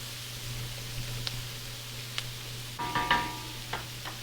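Onions cook over medium heat in a pan while being stirred for a Southern Swiss steak, giving a steady soft sizzle with a low hum beneath and a few louder scraping bursts near the end.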